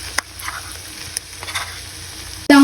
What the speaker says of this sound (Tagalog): i-mix po natin para po magsama-sama sangkap